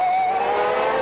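A 1995 Ferrari V12 Formula 1 car on a qualifying lap at Monza, a loud, high-pitched engine wail held steady at high revs with a slight pitch shift.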